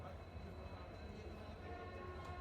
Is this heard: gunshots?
no